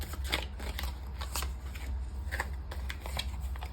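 Tarot cards shuffled and drawn by hand: a steady run of soft papery riffles and flicks with a few sharper snaps, close and fairly quiet, no voices.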